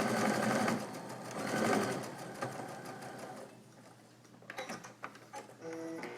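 A sewing machine stitches a no-waste flying geese quilt unit, its needle clattering rapidly and closely for a couple of seconds before slowing into a few separate mechanical ticks and clicks.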